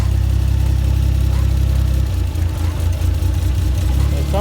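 A 1JZ engine swapped into a Mazda RX-7 idles roughly up close, with a loud, uneven low rumble whose pulse shifts partway through.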